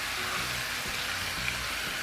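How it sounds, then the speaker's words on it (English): Chicken and andouille sausage browning in a cast iron pot for gumbo give off a steady, close sizzle and hiss, even and unbroken throughout. "Just going to brown off our chicken and our andouille sausage."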